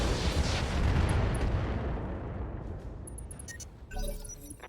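Inferno missiles launch in the RogueTech mech game, a heavy roaring blast that slowly decays, followed by crackling impacts and a second burst.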